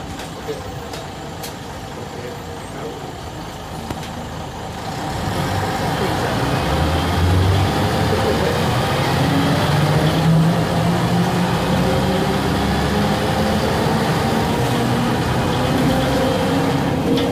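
Ikarus 260.30M city bus running in Budapest, a steady engine drone from inside that grows louder after a few seconds as the bus pulls away and stays loud and continuous to the end.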